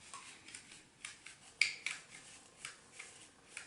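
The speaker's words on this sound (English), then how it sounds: "going to try and see if we can't shave off the end here" A sharp blade scrapes and shaves at the end of a plastic pizza box separator, a run of short rasping strokes close up, some louder and crisper than others, with no talk.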